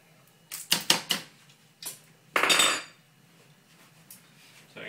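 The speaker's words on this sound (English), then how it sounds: "So I'm going to shove these back in the oven" A metal roasting pan holding Spanish roast chicken and potatoes is shoved into an oven. A quick cluster of clanks is followed by a single knock and then a longer rattling scrape, close and fairly loud.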